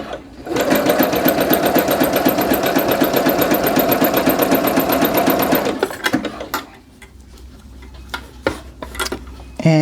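A sewing machine stitching jogger fabric runs in a fast, steady, even whir of needle strokes for several seconds, then stops, leaving scattered handling clicks and small rustles.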